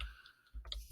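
A couple of faint, quick computer mouse clicks tick close by in a quiet room, sharp and short with nothing else around them.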